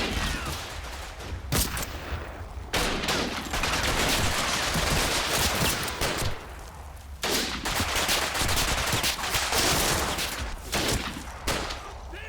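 Sustained gunfire from infantry in Combat Mission: Battle for Normandy, with dense overlapping rifle and machine gun shots rattling continuously, broken by sharp louder cracks.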